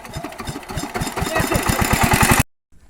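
A machine engine runs close and loud with fast, rhythmic chugging pulses that speed up slightly, then cuts off abruptly into near silence.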